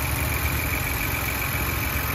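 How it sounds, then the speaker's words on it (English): A 2022 Ford Bronco two-door Wildtrak with the 2.7L EcoBoost engine idles steadily, a smooth, even mid-low hum with faint vibration, close by and alone with no voices. "here's the engine running."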